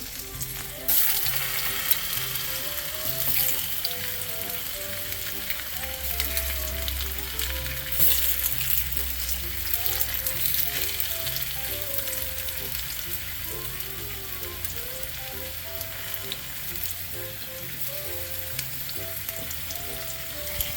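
Chicken sizzles steadily in a fry pan, a loud continuous frying hiss that holds throughout, with faint music running underneath.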